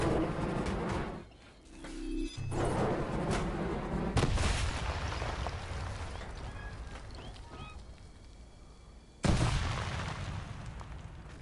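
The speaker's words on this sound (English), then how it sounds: "Is the dynamite even attached? Okay, it is. So now you explode." Dynamite going off in the Bob the engineer sim game: several heavy, booming blasts with sharp onsets, one very loud near the end, over continuous rumbling background noise and no talking.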